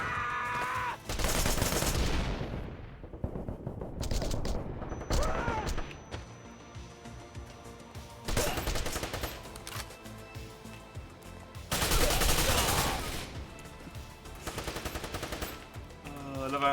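Loud, dense bursts of gunfire in the action game Wanted: Dead, long automatic volleys and fusillades separated by brief lulls, with game voices and other crashes mixed in.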